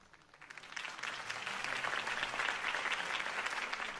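Crowd applause in a Batman video game, rising quickly from quiet within the first half second into a steady, full wash of clapping that stays loud to the end.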